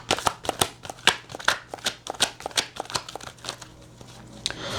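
Tarot cards being shuffled close by, a quick run of crisp riffling flicks and taps in an uneven rhythm for several seconds, with no talking over it.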